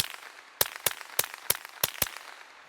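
Six sharp cracks from a suppressed .22 Magnum pistol, a Walther WMP, fired in an uneven sequence over about two seconds, each a brief snap with a short tail, fairly close and with no talking.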